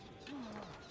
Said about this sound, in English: chirping of birds